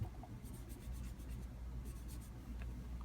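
Eyeshadow is rubbed onto a sheet of paper in quiet, close scratchy strokes, short bursts of soft scraping repeating in two clusters.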